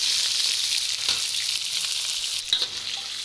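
Chicken pieces frying in a karahi for white creamy chicken karahi, a steady loud sizzle throughout with a few brief stirring clatters near the end.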